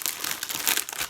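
Gift wrapping crinkles and tears as it is pulled open by hand, a close, dense rustle of paper lasting about a second, with no voices.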